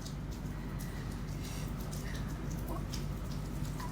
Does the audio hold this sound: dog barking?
no